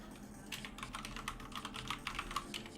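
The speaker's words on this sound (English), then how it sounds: "why can't I type today?" Computer keyboard typing during an Android code review: quick, uneven keystrokes tapped close by in short flurries, with no voice.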